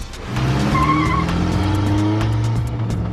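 A vehicle tears away with squealing tyres during a fast police operation, a loud sustained screech over a roaring engine that holds steady for a few seconds, close and dominant with no talking.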